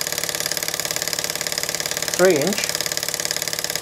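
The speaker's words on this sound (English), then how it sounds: "There's the engine driving the 1/2 inch pulley on a slightly wonky axle" A small Meccano model engine runs steadily, driving a half-inch pulley on a slightly wonky axle, with a fast, even mechanical chatter throughout and someone talking briefly over it.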